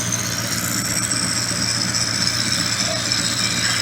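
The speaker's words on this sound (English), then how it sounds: "Let's put our drive running here nicely. It's only a small lathe." The small motor drive of a mini wood lathe runs steadily, a continuous close hum with a low drone and a faint high whine, unchanging throughout, with no talk.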